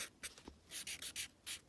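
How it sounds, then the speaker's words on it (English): Pen or pencil writing on paper, a run of short scratchy strokes in bursts with brief pauses, close and quiet, no talking. "I'm going to write PEMDAS close to"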